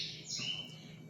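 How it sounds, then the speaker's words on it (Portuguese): Pet birds chirp and sing indoors on a morning, a couple of bright tweets standing out over a steady low hum, fairly close and with no talking. "Os meus passarinhos estão aqui, cantando e alegrando mais uma manhã."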